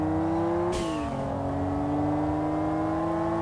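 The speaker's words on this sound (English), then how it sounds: "it's a very peaky engine having a single turbine" A single-turbo car engine in the racing game Kaido Racer holds a loud, steady drone, dipping briefly after a sharp burst near the start, then climbing smoothly again in pitch.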